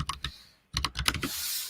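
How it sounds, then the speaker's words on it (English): Keystrokes clatter on a computer keyboard in short bursts of clicks, with a pause in the middle before a quicker run of taps, close and fairly loud, with no voices. "Sorry about the typing."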